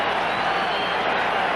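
Crowd at a 1981 Dodgers World Series baseball game keeps up a steady, dense roar of cheering through the ballpark, with no break in the noise.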